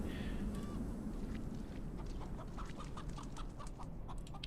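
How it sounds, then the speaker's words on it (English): A chicken clucking in the game Atom: Trudograd, a short run of soft, evenly spaced clucks over a dense, steady ambient rumble. "What happens if you click on the chicken?"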